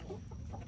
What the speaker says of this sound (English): I don't want to step on the chickens.